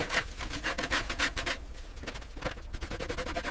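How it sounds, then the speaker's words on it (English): A hand tool steadily scrapes the underside of an abandoned, run-down subway train's bogies in a fast rasping rhythm of repeated strokes, close up and loud throughout with no one talking. "Get under the bogies,"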